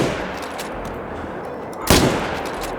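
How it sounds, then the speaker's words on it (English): A single loud rifle shot cracks out against steady outdoor ambience during a black bear hunt in the Call of the Wild hunting game. "So I put 2 shots into his rear."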